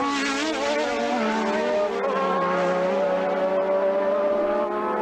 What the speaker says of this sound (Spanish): Acelerando a fondo en ese tramo después de la chicane Hella Licht, el pelotón, mini pelotón encabezado por Prost